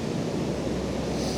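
Ocean waves roll in on a beach in a steady, broad wash of surf with a windy, rumbling texture, close and continuous with no voices.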